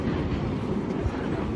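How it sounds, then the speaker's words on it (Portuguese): Porto metro train passing through the city, a steady broadband rumble with low-end roar that holds throughout, moderately close, with no clear individual wheel clacks. "Olha só, o metrô ali passando."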